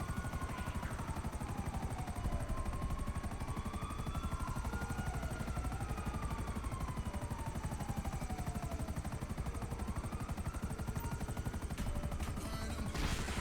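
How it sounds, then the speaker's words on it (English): Rapid gunfire in a video game played from a helicopter, a steady fast-pulsing rattle of shots under constant rotor drone, moderately loud and continuous with no talk. "Is that you shooting stuff, or is that them?"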